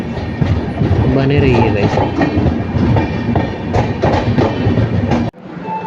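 Vidarbha Express, Indian Railways Gondia–Mumbai train 12106, running on the rails near Badnera: loud continuous rumble and clickety-clack of wheels close up, with a brief voice over the noise before an abrupt drop near the end.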